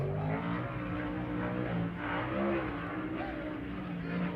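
Two race car qualifiers at Las Vegas Motor Speedway come onto the track for qualifying, their engines making a continuous loud roar with shifting pitch that fills the whole stretch.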